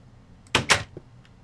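A wooden door in a Minecraft-style block game clicks open and shut, two quick close knocks in succession followed by a faint softer tap, over quiet background.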